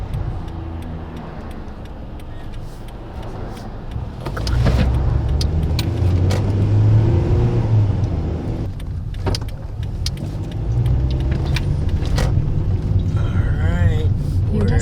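A car cruises on the freeway, its steady low road and engine rumble filling the cabin, with brief clicks and rustles inside and a swell in tire noise midway.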